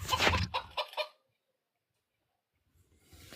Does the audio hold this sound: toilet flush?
no